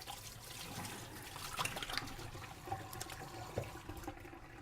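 Tap water runs steadily over food being rinsed in a kitchen sink, with a soft continuous splash and occasional louder spatters, fairly quiet and close.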